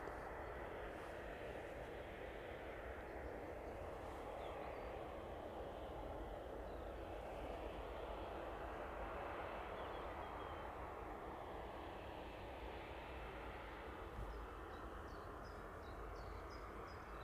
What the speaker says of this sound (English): that 767 making its way onto stand as well